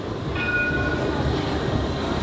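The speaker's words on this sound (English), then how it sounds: "let's watch the old tram go" An old tram in Nottingham rolls past with a steady rumbling roar, and a brief high squeal of wheels on rail rings out early on.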